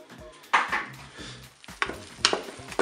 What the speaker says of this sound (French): Je mélange.